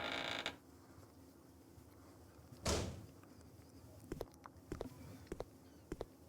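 A door opening in Resident Evil Code: Veronica X, heard as a single clear burst against quiet ambience, followed by a few faint clicks and taps.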